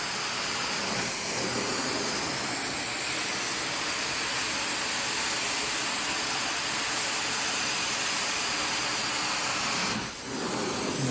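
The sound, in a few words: carpet cleaner steaming carpet at about 220 degrees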